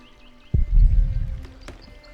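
Water poured in a medieval building game, a short splashing gush that starts abruptly, swells for about a second and then trails off into quiet background ambience.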